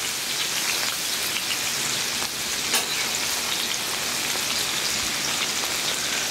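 Potato chips fry on a Blackstone griddle top with a steady, dense sizzle and crackle that stays loud and even throughout, with no voices.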